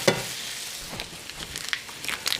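Butter melts in a skillet with a soft, steady sizzle and crackle, broken by a few small scraping or clinking touches, heard close and fairly quiet.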